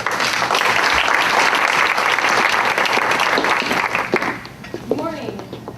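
Loud, steady audience applause welcoming a speaker to the stage at a health care presentation, a full room clapping for about four seconds before fading out as a voice begins speaking.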